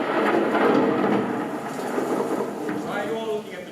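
Thunder rumbles through the whole short stretch as a low, loud, continuous roll, heard as a stage effect at a live musical comedy show, with a faint rain-like hiss on top.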